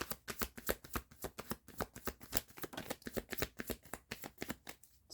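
Tarot cards are shuffled and drawn in a close, steady run of crisp riffling bursts, quick repeated flicks that continue with no talking.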